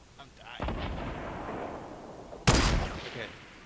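Gunfire in the video game New World aimed at a pine tree: a loud broadband burst of shots opens the clip, then a second sharp, heavier volley hits near the end, with faint background game noise between.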